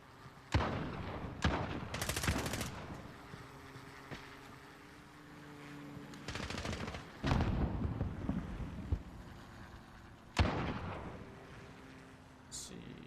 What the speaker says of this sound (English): He definitely got hit with a shotgun.